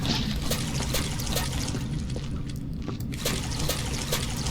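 Water trickles steadily from a source in the sci-fi cleanup game Viscera Cleanup Detail, set in crystal caves, a continuous liquid splashing with small drips ticking through it.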